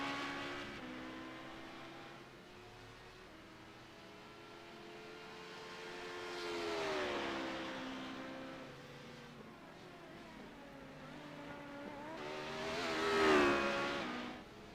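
An LMP2 prototype race car laps in a sim racing game, its engine whining up and down through gear changes with swelling passes and a louder rise near the end.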